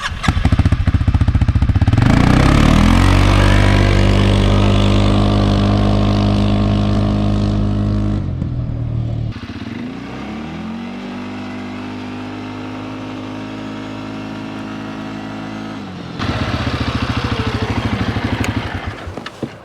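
A CFMoto CForce 500 ATV engine on a speed run, loud and close, revving up through rising gear pulls, easing off briefly and then accelerating hard again.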